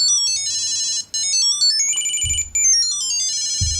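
A Tile Mate tracker tucked inside a child's stuffed animal plays its loud electronic melody, rapid chirping tones that rise and fall in repeated phrases with brief gaps, close and clear with no talking.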